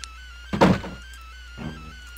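A door opening in the video game New Super Mario Bros.: a short, punchy thunk followed a second later by a softer second thud, set against a steady musical background with no talking.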